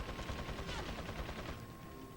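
Rifle shot in the Resident Evil 4 Separate Ways game, a burst of gunfire with rattling reports and a lingering echo, fairly quiet overall.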